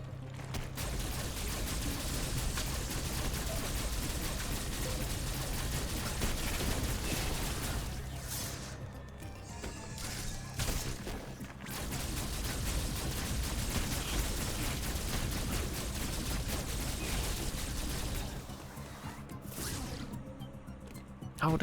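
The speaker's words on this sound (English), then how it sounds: "Okay, I'm just going to shoot it." Gunfire from Samus's arm cannon in Metroid Dread, a dense, continuous barrage of game sound effects and music running loud and steady throughout, with a brief thinning partway through and no talking.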